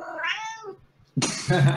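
A cat meows twice, a drawn-out cry followed after a short pause by a louder, harsher yowl, close by with no talking.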